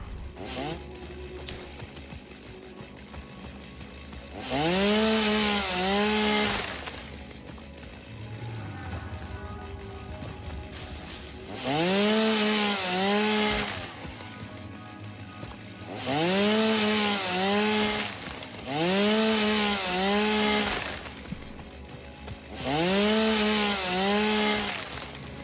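A chainsaw cutting wood in the video game Satisfactory roars in four separate loud bursts, each a rising and falling whine lasting a couple of seconds, with quieter ambient game sounds in between.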